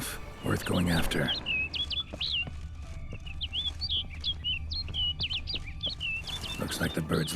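Bird chirping in The Witcher 3 game world: a steady string of quick, bright tweets and calls over a soft ambient wash, with brief voice or action sounds at the start and end.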